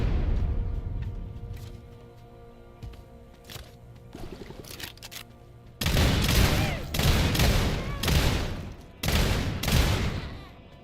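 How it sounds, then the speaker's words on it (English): A shotgun fires in the video game SULFUR: quiet ambience and a few soft clicks, then a series of loud, close booming blasts with short gaps between them. "I'm lashing out at this fucking sand people with my shotgun of instant death"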